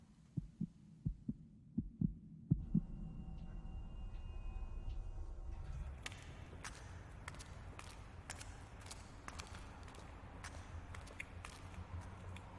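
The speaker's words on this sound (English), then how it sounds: "My heart beat." A heart beats in a handful of soft, evenly spaced thumps near the start, then fades under a rising mix of scattered clicks and broadband noise.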